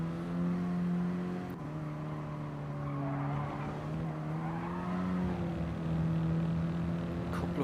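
Mini Cooper race cars running bumper to bumper through the Druids hairpin at Brands Hatch, engines droning loudly with shifting tones as tyres squeal and skid through the corner, continuous for several seconds.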